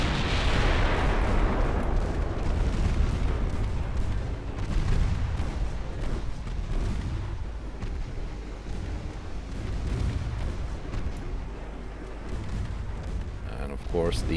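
Naval guns booming in a World War II-era warship battle in Ultimate Admiral Dreadnoughts, a dense, continuous roar of heavy cannon fire and shell blasts with rumbling low-end impacts throughout.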